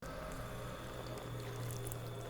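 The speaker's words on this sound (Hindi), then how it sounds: "पानी डालना शुरू करती है।" Water pours in a steady, continuous stream with a dense, rushing texture that keeps an even level throughout.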